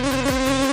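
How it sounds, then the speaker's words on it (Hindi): A cartoon fly gives off a steady, close, high-pitched buzz that holds an even drone for a brief moment. "मम्मा वो देखो मक्खी"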